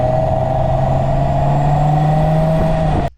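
A Nissan Pathfinder R50 fitted with an off-road snorkel revs steadily, its engine note loud and close as intake roar holds through the snorkel, then cuts off abruptly near the end.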